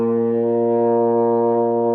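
Euphonium playing a sustained B flat, one steady, full brass note held at even loudness for the whole two seconds, up close and alone.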